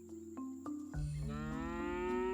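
Cartoonish cow lowing in the adventure game Scott Whiskers: The Search for the Golden Cat, a loud drawn-out moo over soft musical tones, rising clearly in the second half.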